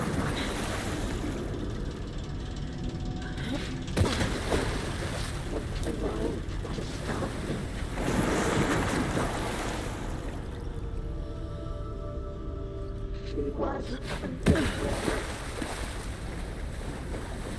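Water and waves in the video game Alan Wake, a steady wash of surf and wind noise running throughout, with a few louder splashing swells near the middle and end and no talk.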